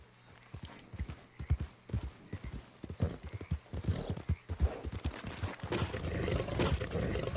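Hooves of a spooked horse in Red Dead Redemption 2 clopping in quick uneven beats that grow louder and denser, with snorting and neighing mixed in toward the end.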